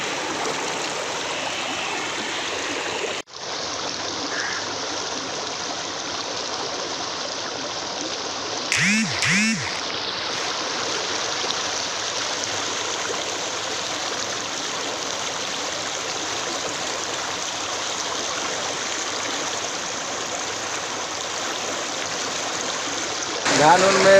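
The flooded Bagmati River in Bihar rushes past in a steady, loud, broadband roar of swollen water, with a brief cut and a short clunk partway through; a voice speaks over the flow.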